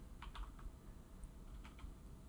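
Soft keystrokes on a computer keyboard while Python code is entered, a few quick clustered taps, a pause, then another short burst, quiet and close with no talking.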